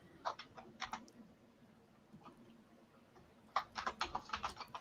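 Individually miked keys on a computer keyboard tap in two short bursts of typing separated by a quiet pause, close but fairly soft clicks.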